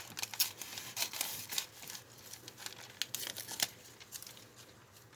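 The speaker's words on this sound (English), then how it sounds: "we're going to cut the rest of the sleeve off here" Fabric sleeve being cut off for a stuffed panda's cherry-blossom dress, heard as close, quiet crinkling and snipping rustles in short bursts, with no talking.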